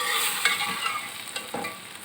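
Okra (bhindi) frying in a pan, a steady hissing sizzle with a few soft scrapes of stirring, close and continuous.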